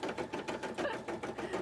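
A sewing machine chugs steadily and close, its rapid mechanical stitching rhythm running unbroken through the whole stretch with no talking over it.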